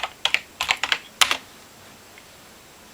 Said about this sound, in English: So I typed in Oregon.